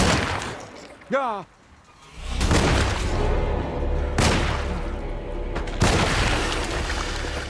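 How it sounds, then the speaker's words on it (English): Gunfire aimed at a vine zombie in the Alone in the Dark game, with a few loud, booming shots spaced seconds apart over rumbling game ambience, while someone talks briefly in between. "Takes a few shots to take one of these bastards down."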